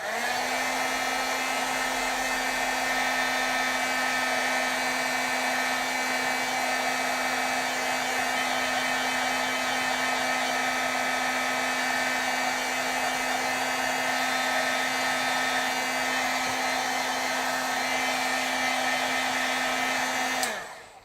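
A heat tool blows steadily for about twenty seconds while vellum pieces are heat set, a loud continuous whirring hiss with a fixed motor whine that cuts off abruptly at the end, with no voices.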